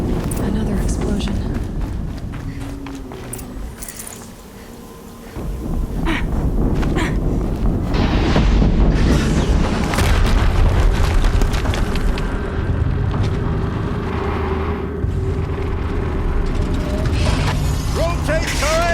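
Booming explosions in the video game Horizon Zero Dawn burst loudly over constant mechanical clanking and combat noise, with a spoken voice over the top.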